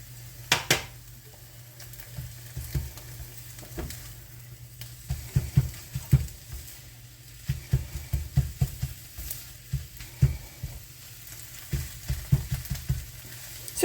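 Scrambled eggs with cheese sizzle softly in a hot pan, a low steady frying hiss broken by repeated scraping and tapping of a utensil stirring against the pan, close and with no voices.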